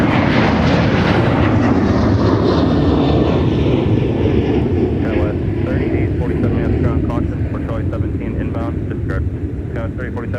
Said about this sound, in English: Here comes Delta 574 to Sacramento,